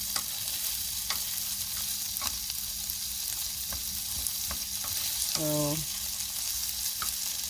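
Food fries in a pan inside a van, a steady sizzle and crackle with scattered pops. A short stirring scrape comes through, and a voice briefly speaks.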